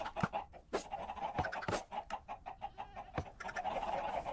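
Chickens cluck in a blocky survival video game, a busy run of short overlapping clucks and squawks close by, with sharp clicking blips scattered through and no talking.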